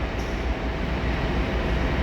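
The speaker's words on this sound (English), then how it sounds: "it's a Northern Belvoir train, an interesting train" A Northern train at Ely station gives off a continuous low rumble and wheel roar, steady and fairly loud throughout with no pauses.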